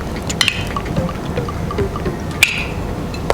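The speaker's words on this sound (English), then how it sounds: "Pour it in." Coloured cocktail liquid, red then yellow layers, poured over homemade crushed ice in a glass, giving brief close splashy trickles and a couple of sharp clinks over a short stretch with no talking.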